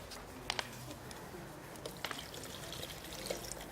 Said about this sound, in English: A little bit of water we want to add to that.